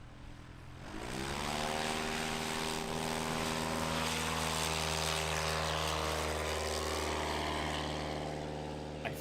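A sport-class propeller airplane in a short-takeoff competition powers up and takes off, its loud, steady engine drone and harmonic prop hum building after the first second and holding close throughout.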